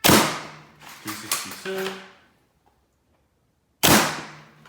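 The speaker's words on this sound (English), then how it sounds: "Firing the black or red Worker Gen 2 high performance darts out of the Worker Swift" Black or red Worker Gen 2 high-performance foam darts fire from a Worker Swift blaster: two loud, sharp pops with quickly decaying reverberant tails, separated by a pause, while a voice briefly calls out a number between them.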